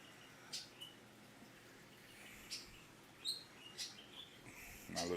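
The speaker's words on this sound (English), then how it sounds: "My little bird just over there singing his butt off" A small bird sings nearby in a quiet outdoor setting, a few brief, high chirps spaced apart over soft background hiss, with a louder burst at the end.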